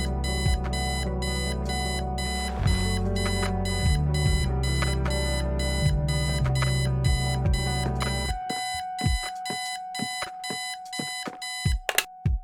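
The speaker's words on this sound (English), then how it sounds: "I set the alarm so you won't miss the funeral" Alarm clock ringing in the video game Kathy Rain, a loud electronic repeating beep pattern over a dense tonal bed that drops out midway, leaving sharp rhythmic beeps alone.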